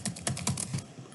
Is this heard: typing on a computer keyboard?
yes